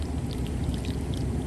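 Warm water pours slowly and steadily into an air conditioner's condensation line, a continuous close rushing trickle with no talking.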